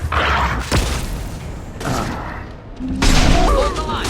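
Gunfire in the shooter game Mass Effect 2, with dense bursts of shots and heavy booms rolling continuously over about four seconds, loud and close, with a voice briefly speaking partway through.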